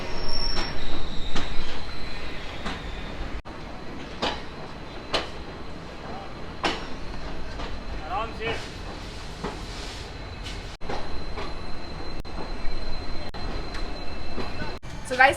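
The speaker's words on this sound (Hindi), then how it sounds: "ये लास्ट ट्रेन जर्नी मेरे साथ एंजॉय कर लीजिए शालीमार एक्सप्रेस की" The Shalimar Express runs on after leaving Jaisalmer, heard from inside with a loud continuous rumble, wheels clattering over the rails and faint squeals, all close and unbroken for the whole stretch.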